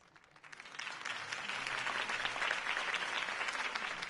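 A crowd applauds after Harvey Dent's campaign speech in a Batman video game. The clapping swells within the first half second into a dense, sustained ovation that keeps going to the end.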